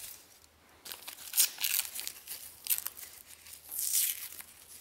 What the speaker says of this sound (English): I'm really struggling here trying to get this protective layer to peel off